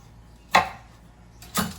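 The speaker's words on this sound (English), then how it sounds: "slicing it this way." Two sharp knife strikes on a cutting board, spaced about a second apart, as ginger is sliced; crisp, close and fairly loud with quiet between cuts.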